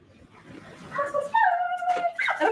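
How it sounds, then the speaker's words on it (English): A hungry dog whimpers and whines in rising, tonal yelps, close and fairly clear, growing louder over a couple of seconds with short broken cries. "This dog is too hungry."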